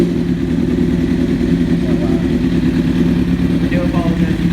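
An older motorcycle engine runs at a steady idle close by, a loud, constant rumbling drone that fills the whole stretch without letup.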